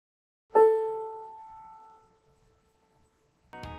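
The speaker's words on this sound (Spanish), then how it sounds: "Y en un piano suena así." A single piano key sounds an A note at 440 Hz with a bright bell-like strike that decays over about a second and a half, followed by silence and then another struck note at the end.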